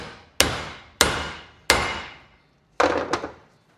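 A hammer drives a rear differential part onto a shaft with a snap ring, striking four sharp metallic blows at a steady pace, close and loud, the last one with a quick rebound tap.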